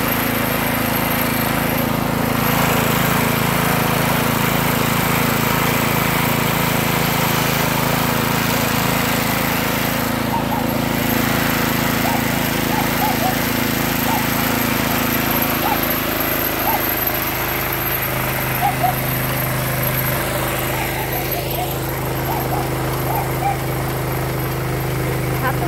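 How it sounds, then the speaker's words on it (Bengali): A chickpea sattu grinding machine runs steadily throughout, a loud continuous motorized drone with a rough rattling texture, close by and unbroken. "এই প্রথম দেখলাম ছোলার ছাতুর মেশিন"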